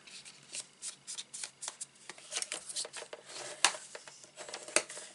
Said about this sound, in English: fold it in half, making sure they all line up